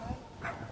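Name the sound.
dog barking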